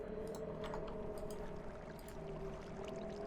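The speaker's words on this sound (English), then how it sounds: "you just need to pour yourself a lead ingot" Molten lead poured into an ingot cast in the game Agrarian Skies 2, a steady, continuous liquid pour lasting throughout, running alongside a constant tonal background hum.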